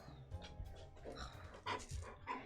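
A puppy pants close to the listener, with quick breathy huffs and small snuffles broken by a couple of louder bursts.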